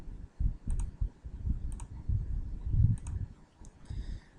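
Calculator buttons are pressed in a few quick, light clicks spaced irregularly, close and crisp over a soft, muffled background of movement.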